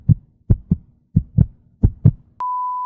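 A heartbeat sound effect thumps out four even lub-dub pairs, deep and close, followed by a sudden steady electronic tone.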